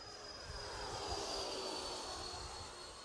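FMS Su-27 RC jet with twin 70mm EDF at half throttle, a steady airy whine with a high tonal hiss, heard from a distance and slowly shifting as the plane passes.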